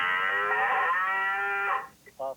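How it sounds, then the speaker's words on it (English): A cow gives one long, loud, close moo that holds steady for under two seconds and then stops, followed by a short, quieter tonal sound. "What does a cow say?"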